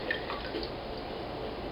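Water runs and drips softly over vegetables as they are rinsed, a faint, continuous trickle with light splashing and no voices.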